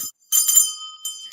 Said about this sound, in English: Let's ring my bell.